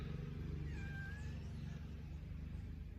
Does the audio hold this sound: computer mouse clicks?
no